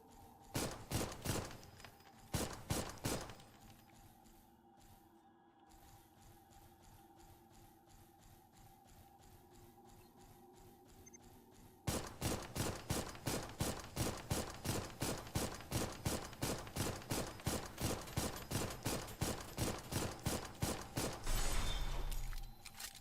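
Weapon fire on a video game practice range: irregular bursts of shots open the stretch, then a long, steady, rapid string of loud automatic shots runs uninterrupted to the end, with mechanical clatter between.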